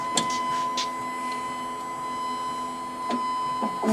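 A Duplo 4000 booklet maker runs a test cycle on 11 by 17 paper, a steady mechanical hum with a constant tone and a few sharp clicks and clacks near the start and end, no voices.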